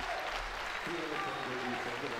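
Crowd applauding and cheering for powerlifter Yarek at a World Games powerlifting competition, a steady dense roar of clapping and voices filling the whole stretch with tonal shouts rising partway through.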